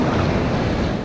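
Waves break on Lake Michigan in a dense, steady wash of surf and wind noise, loud and close, with no pause in the short stretch.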